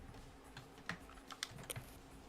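Computer keyboard keys clicking in sparse, uneven taps during a Danganronpa V3 game session, faint and close with a low steady hum beneath, no voices.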